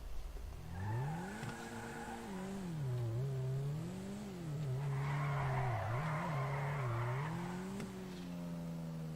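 A car drifting in the video game GTA, using a clutch kick: engine revs rise and fall continuously while tires squeal through long sliding stretches, loud and close with no talking.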